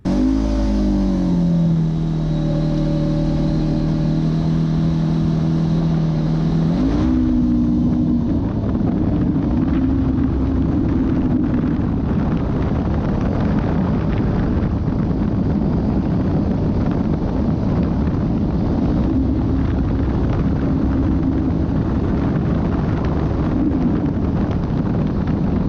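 Motorcycle engine after a Bikeman Performance Stage 1 tune and Stage 3 clutch, starting with steady harmonic idle-like drone, then a continuous loud riding roar with heavy wind buffeting on the microphone.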